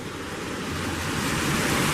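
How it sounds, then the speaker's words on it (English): Waves roll steadily onto Headlands Beach in Lake County, a constant close wash of surf mixed with wind noise on the microphone, with no talking. "I'm standing here at the Headlands Beach near my home in Lake County"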